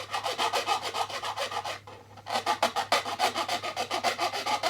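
A flat file rasps in quick, even back-and-forth strokes across the wooden fretboard of a red vinyl cigar box guitar. The strokes are close and crisp, pause for a moment, then resume in a steady rhythm.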